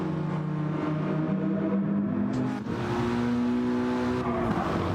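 Race cars in a racing video game roar through a tight winding section of the Dragon Trail Gardens track, engines droning and shifting pitch as they accelerate and pass one another.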